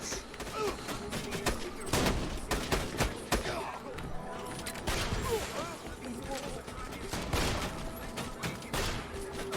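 Pistol gunfire in a video game, a series of sharp loud shots at irregular intervals, some in quick clusters, amid game background noise and voices talking.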